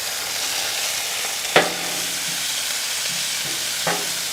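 Ground beef from Butcher Box frying in a pan, a constant broad sizzle close up, broken by two sharp scraping clacks of a utensil chopping at the meat; no voices.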